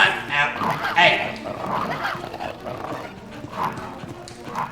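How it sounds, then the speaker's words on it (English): A dog in the Resident Evil video game barks and yips in short bursts amid game effects, while someone talks over them throughout. "Stupid dog! You made me look bad."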